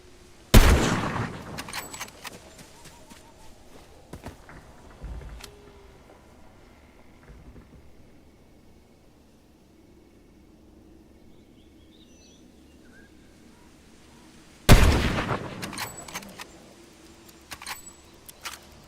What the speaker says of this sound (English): when you shoot with the sniper rifle like that, then everybody in the world knows where you're at